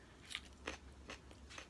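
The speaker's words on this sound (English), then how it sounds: "You hear that crunch?" Crispy kale dressed in olive oil, onion and garlic powder being bitten and chewed, with three or four sharp, close crunches spaced about half a second apart and no talking.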